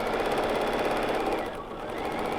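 A BERNINA sewing machine stitches during free-motion quilting of a placemat, a steady rapid mechanical chatter that dips briefly in the middle and then resumes, close and clear.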